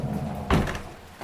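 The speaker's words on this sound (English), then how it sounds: "Closet doors opened." A closet door opens with a single dull thunk and brief rattle in a quiet room, set against a low background hum.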